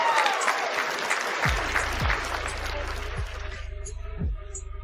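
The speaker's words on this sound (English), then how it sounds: "Give her a round of applause, please, Annie" A round of applause for a woman crackles loudly for a few seconds over an online call, thinning out toward the end as low thumping and a voice intrude.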